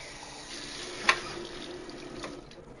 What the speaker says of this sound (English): Just some water.